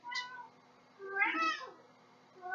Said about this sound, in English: A cat's trying to get up here